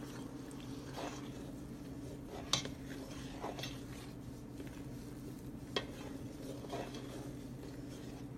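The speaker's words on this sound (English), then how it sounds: "So we're just going to continue to mix the marshmallows." Quiet scraping and stirring of marshmallows in a pot, with a couple of faint utensil taps, under a steady low hum and no talking.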